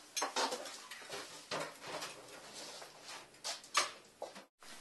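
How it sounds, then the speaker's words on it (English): Dishes being washed: plates, pots and cutlery clatter and clink in irregular bursts at close range, with brief pauses between knocks and a sudden short silence near the end. "Come help me with the dishes."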